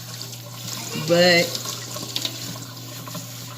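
Running water splashing briefly onto wet hair during a hair wash at a sink, a short burst of a second or so amid a steady background hum, with a voice speaking.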